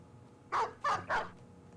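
A dog barks three times in quick succession within the Beast Slayers video game, moderately close over a faint background hum.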